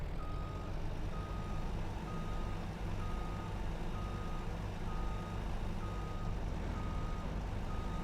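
Truck reversing beeps in Farming Simulator 22 sound as a steady series of evenly spaced electronic pips over a continuous low engine rumble, all at a constant level with no talking.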